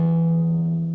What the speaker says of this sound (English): We start off with our ring finger on the 7th fret of the A string,